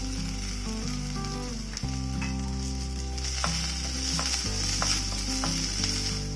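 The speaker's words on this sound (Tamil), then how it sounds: "சின்ன வெங்காயம் அரிஞ்சு வச்சிருக்கிறேன், அதையும் போட்டு வதக்கிக்கலாம்." Chopped shallots, tomato and bottle gourd sizzle steadily in a hot pan with light stirring, while gentle music plays in the background.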